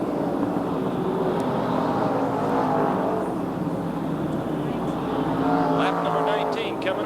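NASCAR Winston late model race cars lapping at Raven Raceway in 1987, a continuous loud engine roar droning and swelling as the pack runs down the back straightaway, with a commentator talking over it throughout.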